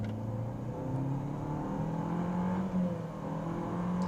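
A 1.3 turbo SUV with a CVT, either a Jeep Renegade or a Renault Duster, launches from a standstill with a steady, rising engine drone that climbs through simulated gear steps, heard from inside with no talking.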